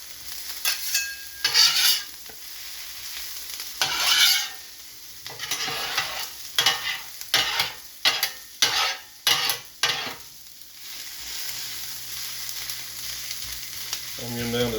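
Chopped onions and peppers sizzle steadily on a Steelmade griddle while a spatula scrapes and taps through them in repeated, rhythmic strokes, close and fairly loud, with no voices.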